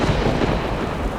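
Heavy thunder rumbles on under a pounding storm of rain, a loud, steady wash of low roar with no voices over it.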